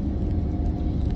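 Low, steady rumble inside a moving car, loud and continuous for about a second with no other sound on top.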